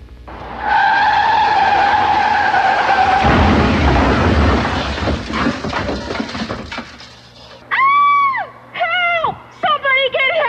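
Car tires screech in a long, loud skid during a crash, with a heavy impact rumble following, then shouting voices break in near the end.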